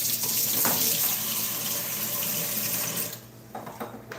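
Tap water runs steadily into a kitchen sink while hands are washed, a loud broadband rush that cuts off near the end and leaves a few splashes and drips.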